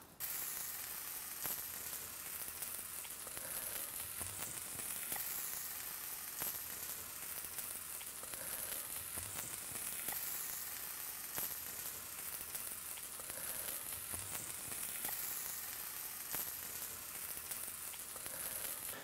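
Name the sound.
omelet with vegetables sizzling in a pan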